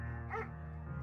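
A German shepherd in the Firewatch video game gives a single short, close bark or yip, lasting a fraction of a second over a steady humming background.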